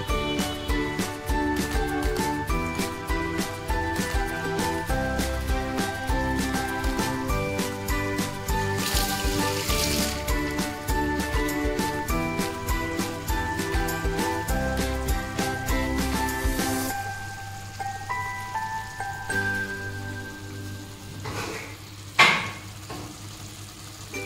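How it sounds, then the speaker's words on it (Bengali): Marinated koi fish (climbing perch) frying in oil with cumin, ginger, chili and yogurt, a steady close sizzle that falls quieter near the end before a brief clatter. "এই কই মাছটা তেল ছেড়ে দিয়েছে দেখেন বন্ধুরা।"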